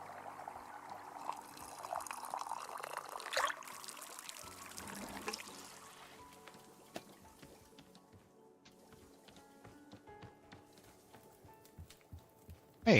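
Messberry tea poured in a cartoon, heard as a bright liquid stream filling a cup that tapers into scattered drips and trickles, followed by a sharp clink at the end.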